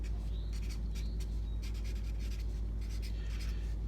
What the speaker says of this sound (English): I'm gonna put my name in the bottom right-hand corner